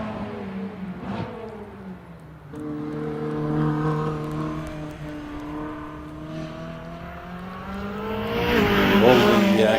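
A Ferrari 458 Spider climbs the Harewood hillclimb course, its engine note rising and falling through gear changes at moderate distance. The sound swells louder near the end.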